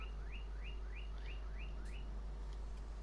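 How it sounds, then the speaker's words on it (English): Birds sing in a farming video game, a repeated rising chirp call sounding seven times in a steady rhythm over a constant low hum, faint and distant with no talk. "That's why we've got the birds singing in the background."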